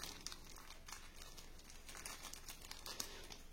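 Crinkling and tearing of a small plastic sachet holding the charging cable for a Redmi Smart Band Pro, close and quiet, with soft crackles and a few sharper rips spread over a few seconds.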